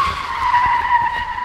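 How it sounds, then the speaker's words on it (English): A car skids with a loud, sustained tire squeal lasting over a second, close by and sliding in pitch, with no voices. "I think I heard a car."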